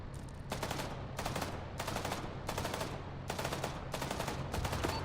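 Rapid bursts of automatic gunfire in Arma 3 as players shoot out the tires on a ZSU, five or six sharp volleys at an even pace against a low background rumble.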